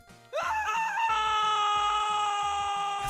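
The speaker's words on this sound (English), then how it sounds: "I feel like these man screams are all from the same guy." A man's scream sound effect previewed for a game: one long, loud, sustained yell that starts abruptly and holds steady to the end, heard alone.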